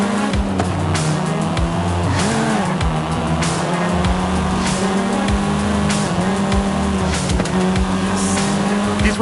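A seventh-generation Volkswagen Golf R driven in Forza Horizon 5 gives a loud, close engine drone that rises and falls with gear shifts, cut by bursts of tire squeal, with no talking.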